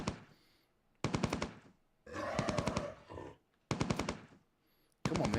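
Automatic gunfire from a weapon in the online game Entropia Universe, fired in several loud rapid bursts separated by brief pauses, with no talk over it.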